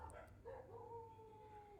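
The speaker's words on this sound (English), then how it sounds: "Man, the dogs outside are still excited." Dogs outside give a faint, drawn-out howl with a short yip at the start, distant and muffled beneath a low steady hum.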